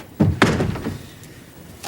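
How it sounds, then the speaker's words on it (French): A door swings shut with two quick thuds in close succession, the second heavier, followed by faint room noise. "Ah, puis ferme la porte."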